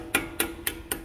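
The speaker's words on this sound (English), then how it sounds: "we're going to hit them out with a little punch tool, screwdriver, whichever you can get to use to hit those out" A small punch tool hammers out the front brake caliper slide pins on a 2020 Chevy Tahoe, making four sharp, close metallic taps spaced evenly about a quarter second apart, with no talking.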